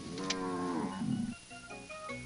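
A black cow in a Pantanal pasture gives a long, loud, close moo that fades out, followed by quieter ambient sounds.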